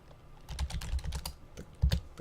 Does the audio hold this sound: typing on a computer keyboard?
yes